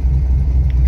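A naturally aspirated car engine with an aggressive cam idles roughly around 440, giving a loud, close, continuous low rumble with an uneven, shaky lope.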